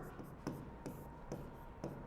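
Chalk or marker writing on a board during a Boolean algebra lesson: faint, rhythmic scratchy strokes at about four per two seconds, quiet and somewhat distant.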